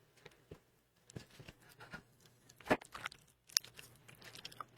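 Close, quiet chewing and squishing of a circus peanut candy for an ASMR bit, with sticky crunchy bites and wet mouth sounds in irregular bursts over a faint background hum.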